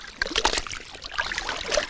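Salted animal hide rinsed in clean water during traditional tanning, with soft trickling and irregular splashes close by, quiet and uneven with small bursts of sloshing.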